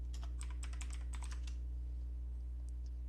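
Quick burst of keystrokes on a computer keyboard while working in KiCad, a dozen or so crisp clicks for about a second and a half, then a couple of faint taps over a low hum.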